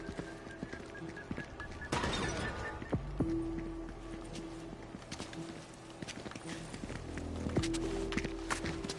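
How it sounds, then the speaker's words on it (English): Faint footsteps in Fortnite, a quick irregular patter of steps mixed with low game clatter and ambient tones, heard at a distance under the game soundscape. "I hear footsteps."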